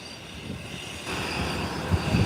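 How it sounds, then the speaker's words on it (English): A Twin Otter airplane taxis along a taxiway toward the ramp, its engines giving a steady, broad drone that swells slightly louder partway through, with no voices. "the Twin Otter is making its way, taxiing to the taxiway"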